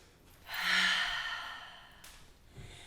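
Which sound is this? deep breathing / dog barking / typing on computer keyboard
deep breathing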